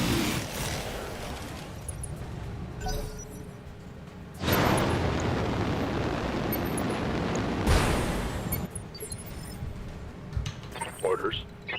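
Weapons fire and explosions from the BattleTech video game rumble continuously, with heavy booming bursts swelling twice under a voice giving commentary.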